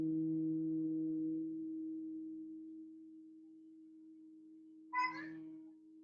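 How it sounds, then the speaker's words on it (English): A steady low humming tone held on an exhaled breath during a breathing exercise, long and sustained, fading slightly before a brief higher vocal sound near the end. "Now as you breathe out, do the humming sound"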